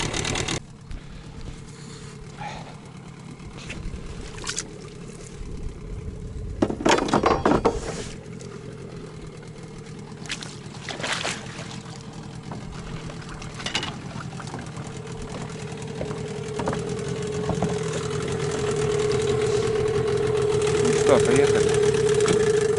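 A Mikatsu 9.8 outboard motor idles steadily on a fishing boat out in fog, a constant mid-pitched engine drone that swells slightly louder toward the end, with a few knocks and bumps over it.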